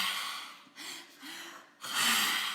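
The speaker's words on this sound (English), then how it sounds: "and then exhale through your mouth" Breath-work exhales pushed out through the mouth, two or three broad airy bursts close to the mic separated by brief quieter pauses, with no talking.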